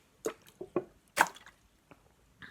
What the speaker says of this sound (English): just drinking my water